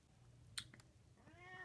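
A pet cat named Thompson gives a single drawn-out meow near the end, close but quiet, after a couple of faint clicks in an otherwise hushed room.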